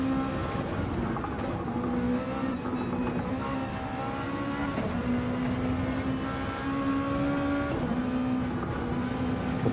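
Pagani GT1 race cars in a sim racing game at a French round, engines holding a steady high drone with pitch dipping and climbing through gear changes, loud and continuous with overlapping cars.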